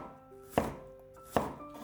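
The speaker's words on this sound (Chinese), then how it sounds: "再改刀切成小丁，尽量切均匀一些" A knife dices apple into small cubes on a cutting board, giving two crisp, close chops about a second apart over quiet room tone, with no talking.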